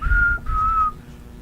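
A person whistles two clear, steady high notes, the first held briefly and the second a little longer, with a soft low background murmur underneath.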